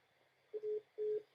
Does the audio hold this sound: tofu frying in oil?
no